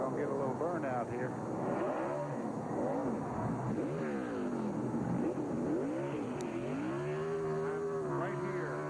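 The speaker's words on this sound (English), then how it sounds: "Looks like we're going to get a little burnout here" A NASCAR Busch Series race car revs hard in a burnout at New Hampshire International Speedway, its engine pitch rising and falling in repeated surges, with a commentator talking over it throughout.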